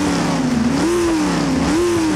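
A 5.2-litre Chrysler V8 in the Half-Life 2 Junker car, a BeamNG mod using sounds from the game, revs loudly and up close, pitch rising and falling in two swells over a rough, steady engine drone.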